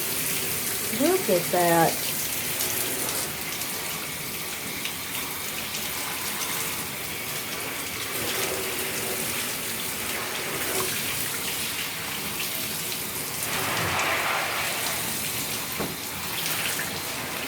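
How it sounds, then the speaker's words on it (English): Water from a tub faucet rinses sunless spray tanner down the bathtub drain in a steady splashing run, with a few short spoken words near the start and occasional brief knocks. "That's a lot of tanner going down the drain."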